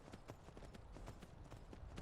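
Horse hooves clip-clop in the video game Skyrim, a quick, even run of light hoofbeats at moderate distance, steady throughout with no voices over them.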